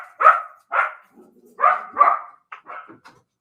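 Dogs barking at home, a series of about six sharp barks in an uneven rhythm with a soft whine between, close and clear with no talk.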